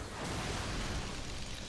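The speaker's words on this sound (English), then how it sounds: "Getting out of the explosion." A video-game explosion in Final Fantasy VII Remake bursts out as a dense, broadband roar that fills the whole moment, loud and sustained for under two seconds with no voices over it.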